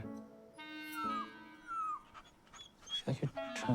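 A dog whimpers in high, wavering whines that slide downward, then pants in quick close breaths, moderately loud in a quiet room with a faint voice in the background.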